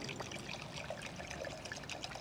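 Red wine pours from a bottle into a glass as a soft, steady trickle close by.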